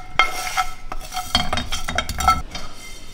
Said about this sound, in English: It's dry roasting. So it's supposed to roast on a dry pan.